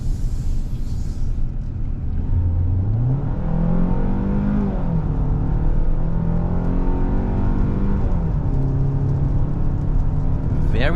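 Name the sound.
2023 Hyundai Santa Fe 2.5 engine accelerating in sport mode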